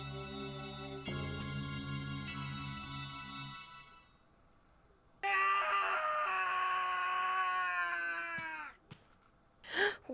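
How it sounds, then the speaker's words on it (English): A harmonic scream from Clock Tower 2 in a wine cellar, with a long high wailing cry rising out of a tonal drone, then a sharper strained shriek, and finally a brief gasp-like burst at the end, with no talking. "What's that scream?"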